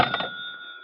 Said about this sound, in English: Now, stop that and answer the phone.